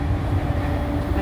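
A moving train in Tokyo gives off a steady, loud rumble from inside the carriage, with a constant low roar and no distinct clacks.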